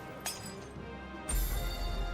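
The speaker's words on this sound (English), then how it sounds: "And he just pops the glass." A glass potion vial pops and crunches in a video game, with a sharp clink early on and a louder, brighter crack about midway that rings on through the rest of the moment.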